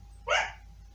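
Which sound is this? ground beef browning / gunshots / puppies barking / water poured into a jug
puppies barking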